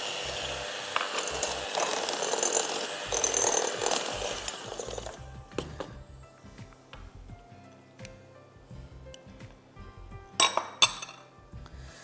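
Spoon stirring cookie brownie batter in a mixing bowl, with steady scraping and clinking for several seconds, then scattered louder taps and clinks against the bowl near the end, close and without talk.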